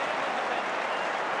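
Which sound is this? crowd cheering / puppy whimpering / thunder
crowd cheering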